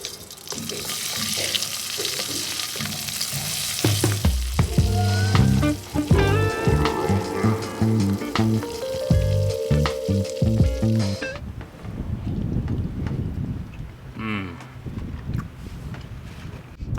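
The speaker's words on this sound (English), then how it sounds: "the butter's still a little bit hot and sizzly" Hot butter sizzles and crackles steadily in a pan while food fries, close and continuous, with clattering utensil taps and a stretch of running water near the end.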